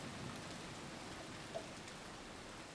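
Steady, fairly faint rain falls in a constant broadband patter with a tiny droplet tick midway, no voices over it.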